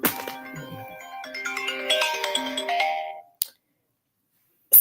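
A phone ringtone plays a bright melodic tune close by for about three seconds, then stops abruptly, followed by a short click and silence.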